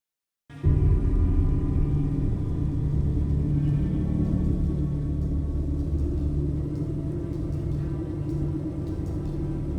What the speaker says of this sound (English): The storm had arrived.